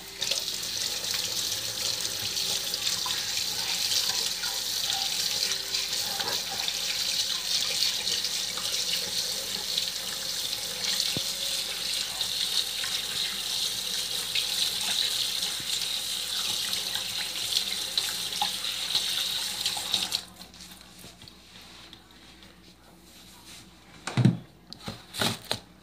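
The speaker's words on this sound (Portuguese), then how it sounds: "Agora eu vou lavar minha mão pra eu poder dar continuidade." Tap water runs steadily from a faucet into a sink as hands are washed during home bread baking, a continuous close hiss that stops abruptly near the end, followed by a few soft clunks.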